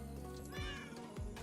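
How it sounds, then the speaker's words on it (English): A cat meows twice in Minecraft Hypixel Skyblock, short rising-falling cries over a continuous bed of game music. "What was that meowing sound?"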